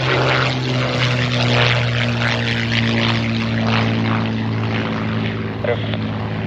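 A Bird Dog light airplane at Oshkosh AirVenture, steady loud propeller and engine drone with strong low harmonic hum throughout, close and continuous, with faint radio-like chatter.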